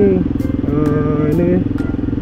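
A motorcycle is wheeled out and idles nearby, its engine thrumming in a steady, pulsing low rumble with a faint clatter, while someone talks over it.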